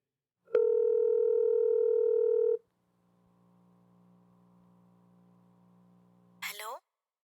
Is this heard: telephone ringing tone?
yes